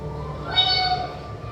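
A hungry cat gives a single short meow, faint and mid-distance, over a quiet background hum.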